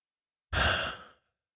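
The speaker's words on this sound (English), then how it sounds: "just take a nice big deep breath" A single deep, audible breath taken during a guided emotional freedom tapping exercise, a close, soft sigh-like inhale and exhale lasting about a second, alone with no talk.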